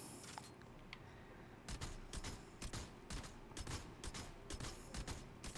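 Rapid bursts of gunfire from a Black Metal weapon in Fortnite Save the World, sharp cracks in quick strings after a quieter start, fairly faint overall, with no talk.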